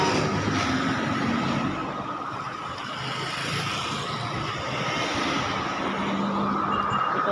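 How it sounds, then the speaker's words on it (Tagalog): Steady road traffic at a busy pedestrian street crossing, a continuous wash of car and engine noise with vehicles passing nearby, loud and unbroken throughout. "Marami pang sasakyan."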